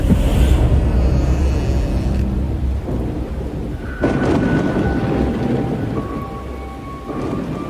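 A thunderstorm with heavy, steady rain pouring down and deep rolling thunder rumbling beneath it, loud and continuous throughout.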